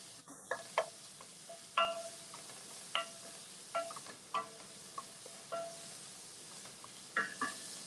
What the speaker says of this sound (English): So we sweat these onions off